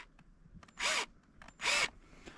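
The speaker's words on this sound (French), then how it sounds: "ce qu'on va faire, c'est faire un trou à l'intérieur de là" A power drill boring a hole to mount a license plate gives two short, loud whirring bursts, each under a second, separated by a brief quiet pause with faint handling noises.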